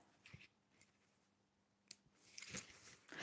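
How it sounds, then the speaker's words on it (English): Scissors snip excess thread from a fabric scrunchie, a few quiet close cuts with soft rustling between them and no talk. "Just cut my bit of excess off again."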